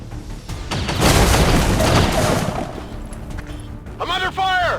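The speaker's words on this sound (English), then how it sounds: "I'm under fire!" Video game gunfire and blasts from XCOM 2, a dense loud burst of rapid shots and booms that fades toward the end, where a voice briefly speaks.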